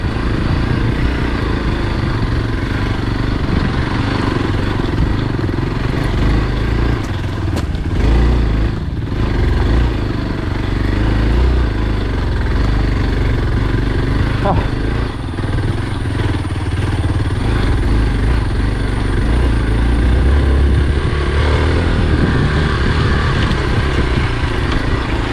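Hero Xpulse motorcycle riding off-road on a trail to a temple, its engine a continuous loud rumbling drone with rough clattering, close and steady throughout without talk.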